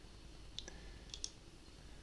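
Faint computer mouse clicks on a button, a single sharp tick followed by a quick pair of clicks, close and crisp over low background hiss.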